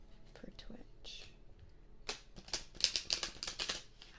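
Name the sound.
tarot cards being shuffled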